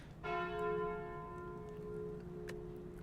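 A single bright bell chime from the game Slay the Spire rings out and slowly decays over a couple of seconds, with a faint soft click near the end.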